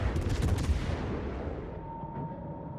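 Heavy 203 mm naval guns firing in World of Warships, a dense burst of overlapping booming shots early on that rolls off into a long fading rumble.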